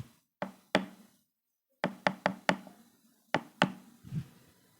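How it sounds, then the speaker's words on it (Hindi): Knocking on a wooden door in sharp, close raps: a double knock, then a quick run of four, then two more, with quiet gaps between the groups. "दरवाजे की आवाज आती है"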